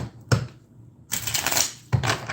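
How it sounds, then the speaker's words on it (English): A deck of oracle cards is shuffled by hand in three quick riffling bursts separated by short pauses, close and crisp with no talking. "I'm gonna shuffle it real good"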